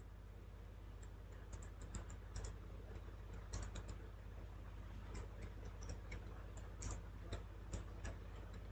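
Soft clicks from a computer keyboard tap away in quick irregular bursts as a letter is typed, light and close over a low steady hum, with no voices.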